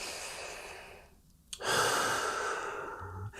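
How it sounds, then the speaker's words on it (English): A single deep breath drawn in audibly after a short pause in a relaxed conversation, a long, close airy inhale trailing off into quiet. "let me take a breath"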